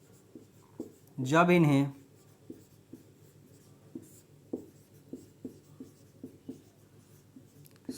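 A short spoken phrase is followed by steady rhythmic strokes of chalk or marker on a classroom board, tapping and scraping at a regular pace close by.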